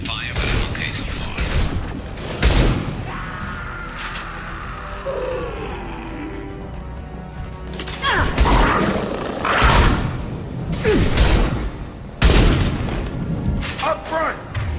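Heavy booms, thuds and gunfire-like bursts from combat in the video game Mass Effect 2 keep up through the whole stretch, with several loud impacts and voices talking over the battle.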